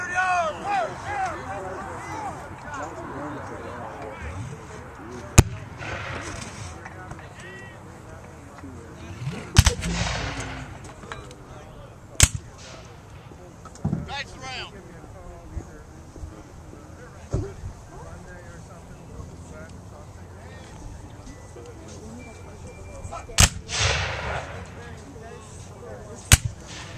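Civil War cannons fire at the Battle of Cloyd's Mountain re-enactment in Dublin, Virginia, several sharp booms scattered across the scene, some near and loud, others distant, amid crowd noise and talk.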